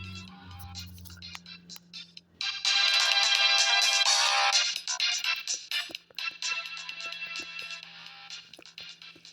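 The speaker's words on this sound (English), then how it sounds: "Listen to that awesome soundtrack." Video game soundtrack music from Final Fantasy Mystic Quest, a bright synthesized melody with a sustained loud middle section that then thins into lighter, choppier notes.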